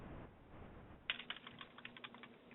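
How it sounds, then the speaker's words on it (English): Computer keyboard typing, quiet and close, with a quick run of irregular key clicks over faint background noise. "Typing, I guess, is sending that message."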